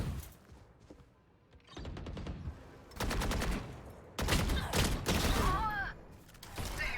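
Bursts of rapid gunfire from the video game Valorant during a competitive collegiate esports match, several loud volleys separated by brief quieter gaps, with no one talking over them.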